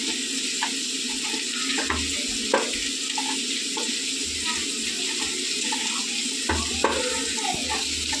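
Food being mixed by hand in a bowl, with soft squelching and rubbing noises and occasional light knocks against the bowl, over a steady background hiss.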